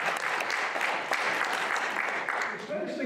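At a mathematics lecture, an audience claps steadily as a speaker is welcomed to the podium, a dense, even wash of many hands at moderate distance that lasts throughout, with a voice faintly heard beneath it near the end.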